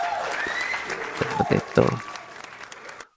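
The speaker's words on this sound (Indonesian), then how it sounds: "Itu harus tepuk tangan" An audience claps loudly at a political speech in Indonesia, the applause rising under a voice as he keeps speaking over it.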